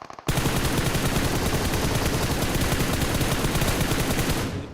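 A sustained burst of automatic rifle fire sprays continuously for several seconds in PUBG Mobile during a competitive esports match, loud and dense, with rapid overlapping shots and no talk.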